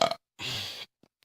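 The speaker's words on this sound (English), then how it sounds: "Excuse that burp." A single close burp, one low, rough half-second eruption following a short vocal sound, then near silence.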